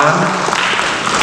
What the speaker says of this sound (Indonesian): Boleh tepuk tangan sekali lagi teman-teman.